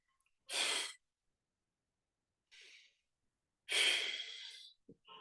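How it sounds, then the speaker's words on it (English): Deep breaths drawn and pushed out through the mouth during a calming anxiety-therapy exercise: a strong exhale, a softer breath, then another long, loud exhale, separated by silence. "And while breathing out, breathe out through your mouth."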